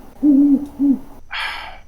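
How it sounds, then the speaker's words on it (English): An owl hoot effect, loud and close: two tonal low hoots, a longer one then a shorter one, followed by a brief breathy hiss, with no speech. "Do you want an owl sound?"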